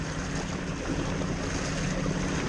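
Barge wake rolling against a small quadyak on the Arkansas River, a loud, continuous wash of splashing water with wind buffeting the microphone and a low rumble underneath.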